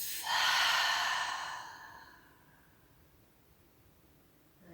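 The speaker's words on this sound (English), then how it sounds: "In through the nose and out through the mouth." A long, steady exhale through the mouth during a calm yoga session, a soft, airy rush of breath lasting about two seconds and then fading into quiet.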